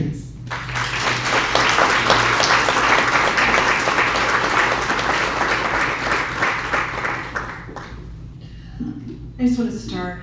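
Loud, sustained audience applause from a crowd welcoming a speaker at a film screening and discussion event in Novato, steady clapping that fades toward the end as a voice begins.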